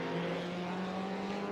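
A DTM race car from the 1992 season in the Raceroom game, at Autodrom Most, drones steadily with a sustained engine note coming out of a hairpin, continuous and fairly distant, with no talking.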